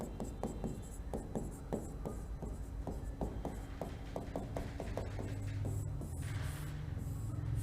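Chalk or marker taps and strokes on a classroom board come in quick irregular bursts, close and clear, over a low room hum, with no speech.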